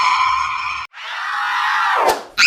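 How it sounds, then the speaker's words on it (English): Slendrina, a ghostly character in the horror game Granny, lets out a loud, harsh, sustained scream with a strained, groaning edge, breaking off briefly and then rising into a sharp shriek near the end. "Slendrina does a disturbing scream"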